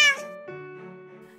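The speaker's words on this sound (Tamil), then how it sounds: "இவன் பாட்டி இந்த மஞ்சள் கலர் பூனை" A yellow house cat gives one clear, close meow that rises and then trails off, on its own with no talk.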